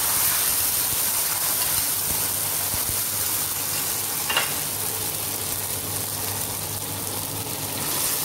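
Indian tomato sauce hits a hot pan and sizzles loudly, a dense crackling hiss with a brief splash partway through as it settles into a steady fry.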